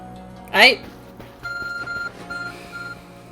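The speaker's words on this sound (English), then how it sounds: "What do you think they're gonna think about a beep beep beep device?" Repeated electronic beeping from a phone device in the video game Pokemon Legends: Arceus, a run of short even tones in two bursts following a brief voice exclamation.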